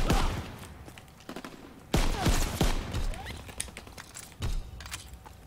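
Sharp shots from a gun in Call of Duty WW2, several loud cracks spaced a second or so apart, with fainter in-game battle sounds between them.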